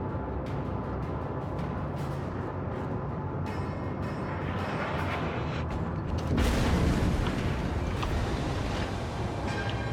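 Heavy naval gunfire from battleship guns in World of Warships, a dense continuous rumble of booming salvos with a louder burst near the end, no voices.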